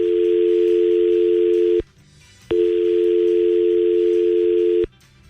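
A steady telephone dial tone sounds loud and continuous for nearly two seconds, breaks off briefly, then returns for another long stretch before cutting out again.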